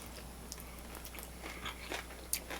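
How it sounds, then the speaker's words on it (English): Chicken wings being chewed up close at a brunch spot, with soft crunchy bites and wet chomping scattered over a couple of seconds, faint and intermittent, no talking. "I've been just chomping away"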